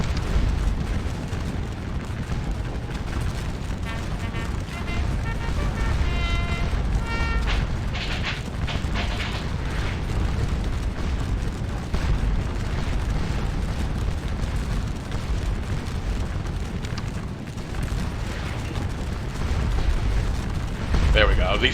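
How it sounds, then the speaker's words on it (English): Napoleonic artillery at Waterloo in Scourge of War, cannon booms rolling through a constant roar of battle noise over a long stretch, with a voice talking over the din. "These guns are going to destroy these squares. I mean, absolutely destroy them. Just going right for the canister, eh, boys?"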